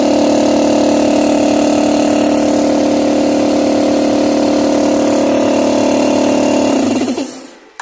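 Campbell air compressor running on its first start, a loud, steady motor drone with a constant pitch that holds for several seconds, then winds down quickly and cuts out.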